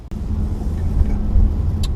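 2019 Nissan Qashqai car setting off, a low steady engine and road rumble inside the cabin, preceded by a brief click and with a short sharp tick near the end.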